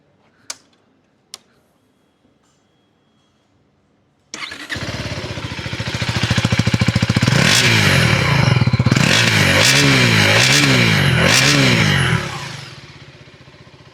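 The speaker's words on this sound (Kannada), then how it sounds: "ಇವಾಗ ಎರಡಕ್ಕೂ ಎಕ್ಸಾಸ್ಟ್ ನೋಟ್ನ ಕಂಪೇರ್ ಮಾಡಿ ನೋಡೋಣ" KTM 399cc adventure motorcycle with a few faint clicks before the engine fires, settles into a loud idle, then revs hard in repeated rising-and-falling bursts before dropping back near the end.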